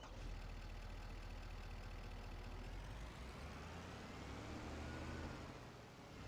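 A pickup truck engine runs in Farming Simulator 25, a steady low rumble with a rising pitch as it revs up midway, then settling, heard alone.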